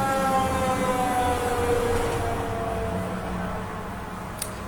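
Fire engine siren wailing continuously with a slowly gliding pitch, loud and steady over broadband noise, fading slightly toward the end, with no speech.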